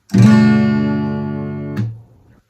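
A single guitar chord from a song, with the high E string open, rings out close and clear, decays steadily, then is cut off by a short fret-squeak and muting.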